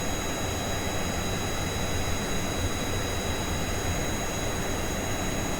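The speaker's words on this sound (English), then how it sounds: "This is not how a plane should be flying" In Kerbal Space Program, a plane's engine drones continuously at a loud, steady level, a broadband roar with faint high tonal whine and no pauses.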